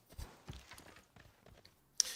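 Horse hooves of a horseman unit clopping in the strategy game Civilization VI, a few soft, irregular hoof thuds at low volume, followed by a brief bright chime at the end.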